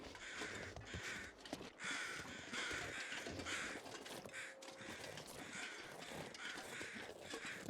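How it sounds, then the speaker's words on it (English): Crows caw repeatedly in a video game survival setting, a steady series of harsh calls layered over continuous ambient background noise, moderately distant and fairly faint. "What's these crows doing?"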